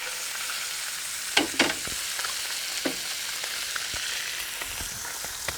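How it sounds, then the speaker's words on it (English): Fish frying in hot oil in a pan gives a steady, close sizzle with a few brief clinks and stirring bumps early on and no talking. "now that the fish is in, I'm just going to kind of swirl the oil around a little bit so the oil gets under them"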